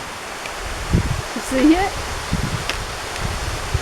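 Waterfall at the Upper Falls gorge as a steady, hissing broadband roar from somewhere out of sight, with people talking briefly over it.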